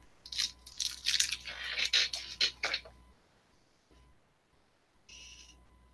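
Someone chewing crunchy food very close to the microphone: about three seconds of dense, crackling bites and crunches, then quiet with a brief softer noise near the end.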